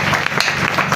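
Church congregation applauding at a Bible teaching, a brief burst of dense, loud clapping from many hands.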